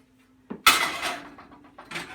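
Metal baking pan holding sourdough bread clatters as it comes out of a hot oven, one sharp clank followed by smaller knocks and scrapes, close and fairly loud.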